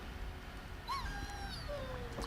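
A warhound in the fantasy game Dragon Age Origins gives a short, rising whimper with a couple of thin whines after it, fairly quiet over a low background hum.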